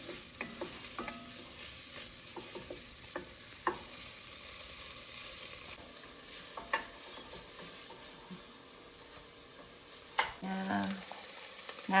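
Olive oil sizzling in a soup pot for a Tuscan chicken white bean soup, a steady quiet frying hiss broken by occasional clinks and stirring scrapes, growing louder near the end.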